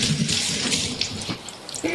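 Soy milk poured from a measuring cup into a bowl while making chocolate avocado pudding: a short, close, splashy pour of about two seconds, with no talking.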